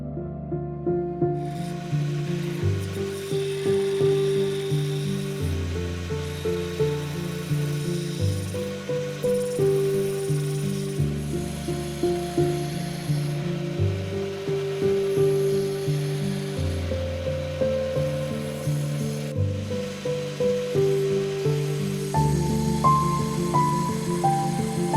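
A wood lathe turns a spoon blank held in a chuck while a skew chisel shapes the outside of the bowl. A loud steady motor hum with pulsing tonal drone and cyclic scraping continues throughout, with no voices.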